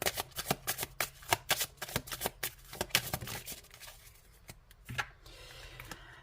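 Tarot oracle cards being shuffled by hand, a quick series of crisp riffling flutters and soft slaps, close and clear with no talking, pausing and thinning out near the end.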